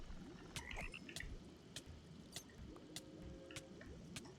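Frogs in a modded Minecraft game croak faintly with sharp intermittent clicks and drip-like blips, spaced irregularly over a soft, low, bubbling background.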